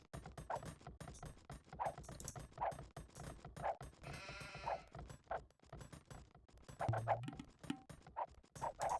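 Dogs in an Age of Empires game, heard as a regular series of short, bright animal calls that repeat about every second over a quieter game background, with no speech.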